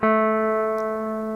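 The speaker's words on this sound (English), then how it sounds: "Here's the sound of the natural minor scale." A single sustained tone, the note A opening the A natural minor scale, with a clean attack, held steadily and fading gently, like one plucked or electronic note ringing out alone.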